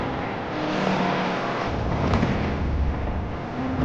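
Race cars from an Xbox Series X game trailer rumble and rev loudly with a dense, steady engine roar, as if sweeping past close by, with no talking.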